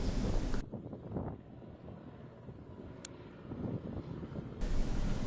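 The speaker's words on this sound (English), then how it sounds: "The pilot was dragging this aircraft in at a very low speed" A light aircraft dragged in low at very low speed on approach, its engine drone steady and fairly close, with wind buffeting the microphone at the start and end.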